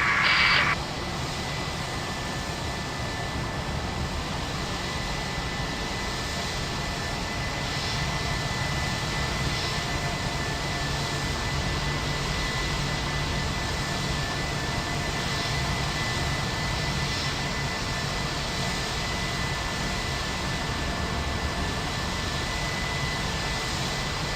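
Airliner jet engines drone steadily through a simulated pushback in Microsoft Flight Simulator X, a continuous broadband roar holding an even level from start to finish, with a brief brighter burst right at the start.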